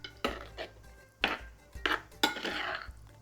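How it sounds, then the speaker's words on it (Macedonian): Cooking traditional drobenik at home, a utensil scrapes and clinks against a dish while garlic is stirred in, giving several separate clattering strokes with short pauses between them, close and fairly quiet. "Само мора добро да се промеша, за лукчето да влезе секаде."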